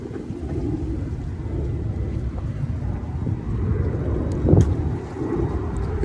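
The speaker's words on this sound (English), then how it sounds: "that's just a plane in the air" An airplane flying overhead, a low continuous rumbling drone with a windy wash, steady and moderately loud, swelling slightly near the end.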